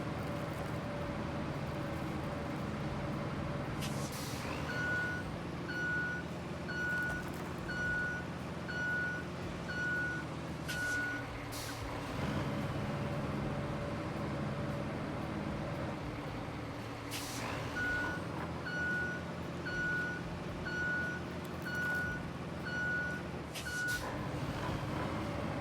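Dump truck in the video game Roadcraft reversing, two runs of evenly spaced electronic backup beeps over a steady engine rumble with air-brake hisses.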